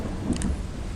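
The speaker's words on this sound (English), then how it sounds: "Lightning bolt effects," Thunder from a lightning bolt strike in a storm effect, a loud broad rumbling wash mixed with rain-like hiss, with a brief brighter crackle near the start.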